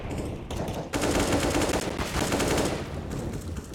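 Rapid automatic rifle fire in Counter-Strike: Global Offensive, a close, loud stream of shots in bursts with brief gaps, no talking.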